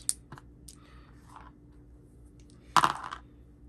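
Eleven dice tumbling and clattering during a solo tabletop RPG attack roll with exploding dice; a few light clicks early, then one sharp, close burst of rattling dice that quickly fades out, with no voices.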